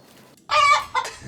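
A chicken clucks as a short sound effect, one loud squawking cluck followed by a quicker, weaker second one, with nothing else around it.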